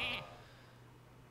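Hearthstone Polymorph spell turning a minion into a sheep: a short, bright magical chime with a quick bleat-like tone that fades fast into quiet hum.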